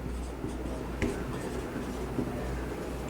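Chalk or marker writing on a board during a maths lecture on differential equations, a faint scratchy stroke with a small tap near the middle, set against a steady room hum.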